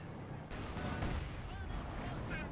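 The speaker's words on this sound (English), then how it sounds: "he detonated it with a high-velocity cannon" A high-velocity cannon fires and sets off a mine in Company of Heroes, a sudden heavy blast followed by rumbling battle noise and scattered distant fire, partly under a commentator's voice.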